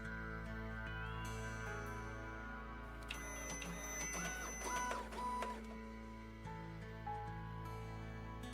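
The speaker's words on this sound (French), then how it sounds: "L'imprimante, elle est là." A printer whirs and clatters in the toy-making game Toy Tinker Simulator, a busy mechanical burst of buzzing and ticking that rises in the middle over a steady low hum and background music.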